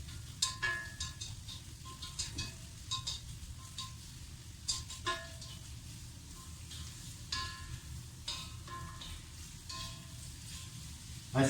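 Courgettes added to carrots frying in a pan for stir-fried rice noodles with chicken, a steady close sizzle with scattered clicks and stirring scrapes throughout.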